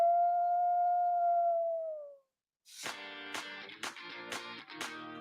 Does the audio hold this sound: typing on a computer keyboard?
no